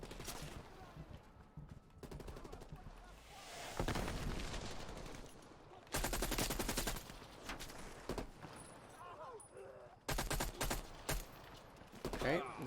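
Gunfire in Call of Duty Black Ops Cold War on PS5, mission Operation Chaos: loud bursts of automatic fire and heavy volleys arriving in waves, close and dense, with shorter single shots between the barrages.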